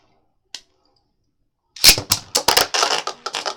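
A Beyblade is ripped from its launcher into a plastic stadium: one faint click, a pause, then a loud burst of sharp clattering and rapid scraping impacts as the top spins and strikes the stadium walls, close and with no voices.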